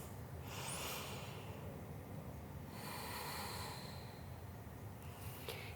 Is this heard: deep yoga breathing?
yes